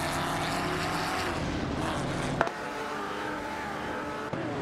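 Race car engines roar steadily in an AI race in a racing video game featuring a Chevrolet Corvette C4 ZR1 and a Lamborghini Diablo SV, with a sustained loud drone and a couple of brief clicks.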